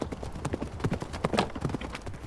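Horse hooves pound in a quick, irregular galloping rhythm during a lance charge at the quintain, close and loud, with thuds and jingling rattles over outdoor noise.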